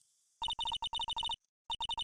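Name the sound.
phone ringing after redial in Phoenix Wright: Ace Attorney video game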